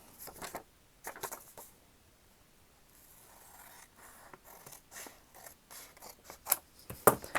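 Scissors snipping paper for a journal tab, several short crisp cuts in separate bursts with quiet pauses between, close and fairly soft, then a cluster of sharper snips near the end.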